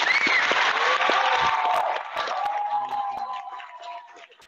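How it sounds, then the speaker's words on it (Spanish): An audience at a Cuban music anniversary concert claps for a young bass player, a burst of applause with some cheering that fades as sustained tones ring underneath. "Un aplauso."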